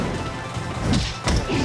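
Short, punchy fire-attack impacts from Rivals of Aether in a Zetterburn match at a Youmacon 2018 tournament, two loud crashing thuds landing about a third of a second apart over steady crowd and game noise.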